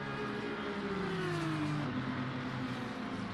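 GT3 race cars accelerating down a long straight at Paul Ricard in the Assetto Corsa Competizione racing game, an Audi drafting an Aston Martin, engines droning steadily with a falling then rising pitch, continuous and loud.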